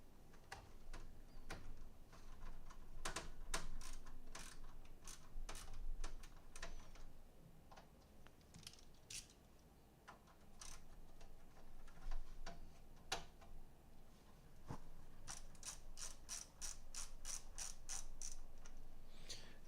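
Small screws being driven into motherboard standoffs during an AMD 7700X and Nvidia 4070 PC build, heard as close, irregular ratcheting clicks and ticks of a screwdriver with short pauses between screws.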